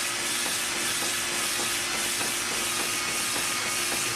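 Cylinder hone spinning inside a Quincy air compressor cylinder with cutting oil, cutting a crosshatch: a dense, steady hiss and whir with a faint rhythmic pulse as the hone strokes up and down, loud and close.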